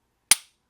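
A single sharp click from the flat-faced aluminum trigger on a Glock-style Gen 5 pistol being dry-fired, one crisp snap close to the mic with a quick decay into silence.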